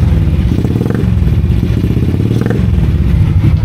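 A Honda Wave 100R motorcycle, over fifteen years old, runs again after a spark plug fix, its small engine idling close and loud in a steady rhythmic putter with slight clattering and brief rises in revs.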